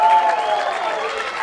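Crowd applause at an amateur rugby match between Old Collegians and Burnside, a steady dense clapping wash that stays fairly loud and even throughout, tapering only slightly toward the end.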